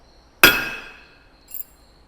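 A single sharp metallic hammer strike drives a number stamp into a metal bird band, a bright ringing clink that decays over about half a second, followed by a faint small tap.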